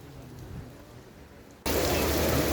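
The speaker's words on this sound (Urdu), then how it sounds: "بارش ہوئی، بہت بارش ہوئی" Heavy rain pours down in a loud, steady hiss after a quieter stretch of softer rainfall, with a faint low rumble underneath.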